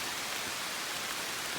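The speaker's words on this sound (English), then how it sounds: "And as you can hear, it's raining" Steady rain pours outdoors in a wooded area, a dense, even hiss of drops hitting the ground and leaves, close and continuous with no other sounds standing out.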